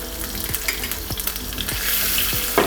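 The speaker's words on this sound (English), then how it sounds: "I'm going to put these in the pan. I'm going to put it sort of fat side down" Pork steaks frying fat side down in a hot pan, a continuous close hiss of sizzling fat with a few soft periodic taps, no talk.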